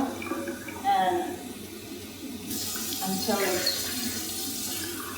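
Four cups of lukewarm water pour in a steady, rushing stream into bannock dry ingredients in a kitchen. The flow swells partway through and continues under a person talking.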